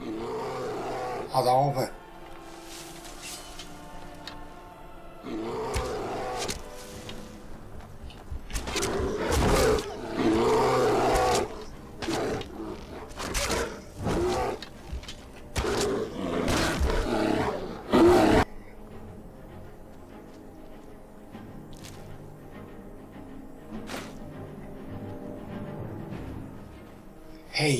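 A bear roaring in the video game Skyrim: several loud, rough roars in bursts across the middle, mixed with someone speaking German, then quieter ambience toward the end.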